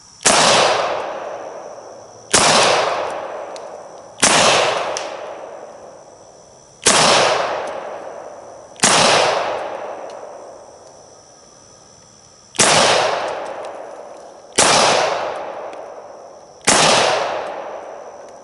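An American Tactical FXH 45 1911 pistol fires eight loud, sharp shots at a target from about 15 feet, spaced roughly two seconds apart, each crack followed by a short ringing decay, with no talking.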